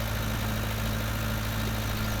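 A Fiat tractor engine from Farming Simulator 19 drones steadily at idle with a low, even hum and constant vibration, holding a flat level throughout with no voices.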